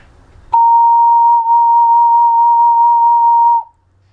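Twelve-hole ocarina sounding a single sustained B flat, a pure steady tone held for about three seconds, close and loud with no talking.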